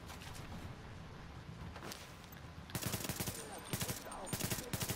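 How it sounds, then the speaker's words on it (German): A mounted turret gun in the video game The Division fires in rapid bursts, faint rattling at first, then louder clustered volleys of automatic shots, with a voice murmuring underneath. "Oh, jetzt hat er noch das Geschütz angestellt"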